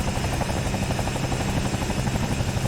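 Bell 222 helicopter in a flight simulator game, a steady close rotor thrum with a dense whining turbine layer, holding at an even, continuous loudness throughout.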